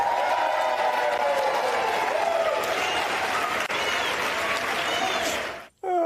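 House Democrats cheering and applauding after a vote in the chamber, a dense sustained roar of clapping and crowd noise that fills the space loudly, then cuts off abruptly near the end.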